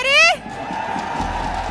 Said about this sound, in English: Oh my god, the crowd is crazy.